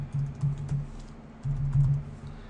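Keys on a computer keyboard clatter in two short bursts of quick, close typing, a brief pause splitting the runs of soft clicks.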